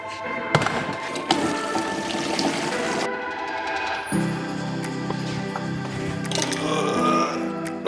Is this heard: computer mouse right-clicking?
no